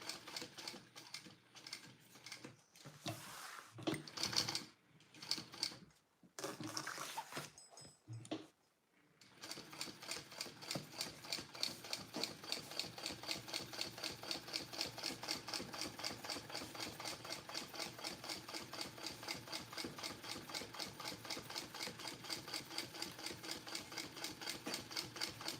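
A sewing machine stitches rows on a mini backpack, first in short stop-start bursts, then in a long steady rapid run of needle strokes, fairly quiet and close.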